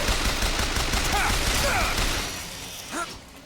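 Turret gunfire in Bioshock Infinite comes as a dense, rattling fusillade of rapid shots, loud and continuous before thinning out, with a voice talking amid the shooting.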